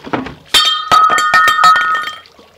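Glass cups knocking and clinking together, several sharp bright ringing strikes in quick succession with short resonant tails, close and loud with no talking.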